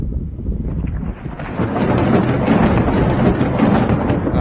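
Thunder from a lightning strike on the Statue of Liberty, a loud, continuous deep rumble that swells after the first second and holds, mixed with wind-like roar.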